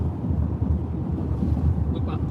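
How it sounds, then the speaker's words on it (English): Strong gust-front wind blows off the front of a storm in the Oklahoma panhandle, a steady, loud roar with low rumbling buffeting across the microphone throughout. "This is just sheer gust front blowing off the"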